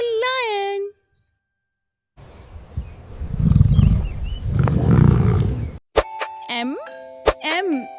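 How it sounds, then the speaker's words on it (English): A lion roars in two deep, rough bursts, set between a brief sung voice at the start and bright chime-like tones at the end. "L is for lion."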